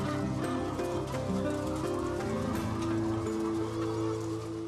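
Chickens and ducks on a farm during a scorching heatwave, a dense, constant chorus of clucking, honking and quacking birds close by, with faint talk mixed in underneath.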